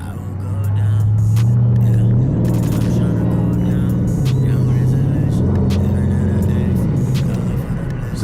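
A Dodge SRT8 engine rumbles loud and close, its deep idle rising and falling with revving swells, while a person talks over the steady growl.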